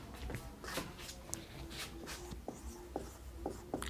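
Pen strokes scratch across paper by hand, a quiet close run of short rubbing strokes with small taps, no talking.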